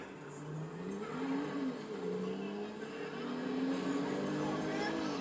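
A car engine in GTA Online hums and revs steadily at moderate volume, its pitch rising and falling slightly as the vehicle drives along.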